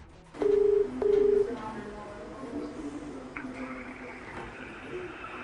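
Telephone ringing unanswered on a call to a hospital: two clear ring tones in quick succession, then faint background hum and noise.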